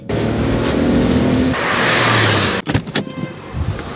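A rental car driving on a quiet Sunday road, engine droning steadily then shifting as it accelerates, followed by a few short bumps and clunks near the end.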